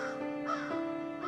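A crow caws in a steady, harsh call lasting over a second, fairly close and clear, with no talk over it.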